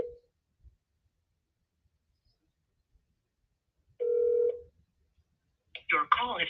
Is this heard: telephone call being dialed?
yes